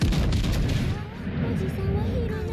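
Heavy naval gunfire in World of Warships Legends, with rumbling booms and dense low-end blasts running throughout, loud and continuous beneath a battle soundscape.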